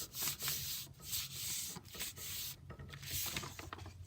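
Rubbing by hand on the back of a slightly curled painting to press it flat onto mounting paper, giving soft repeated scrubbing strokes with brief pauses, close and steady with no voices.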